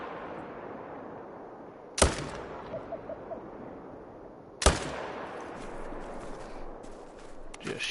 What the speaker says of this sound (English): Just shoot him for some extra pressure cleanup.